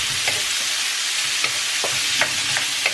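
Onions, paprika and ground meat sizzle and fry in a pan, a steady loud hiss broken by a few sharp scrapes and knocks of a utensil as it stirs, with no talking.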